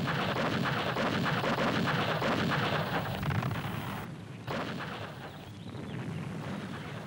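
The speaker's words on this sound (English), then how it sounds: "The Viet Minh assault began with a massive artillery bombardment" Massive artillery bombardment at Dien Bien Phu during the 1954 Viet Minh assault: a dense, continuous roar of overlapping blasts and rumbling detonations, loud and unbroken, easing slightly midway before rolling on.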